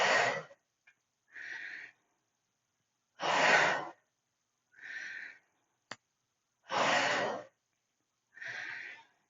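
Forceful breaths during a full-body workout twist, three loud bursts alternating with three softer ones in a steady rhythm, each about half a second long with silence between, close to the mic, with no talking.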